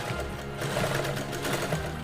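A sewing machine runs continuously, stitching the lining of a double zipper pencil pouch, a dense steady mechanical whir close by with no talk.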